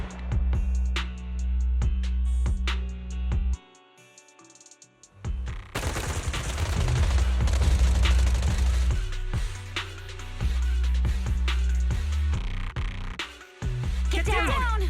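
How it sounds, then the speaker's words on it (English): Bursts of rapid gunfire crack through the Zenless Zone Zero game soundtrack, suppressive marching fire in sustained volleys, a short lull, then more shots under low music. "Gunfire? This pattern. Suppressive marching fire."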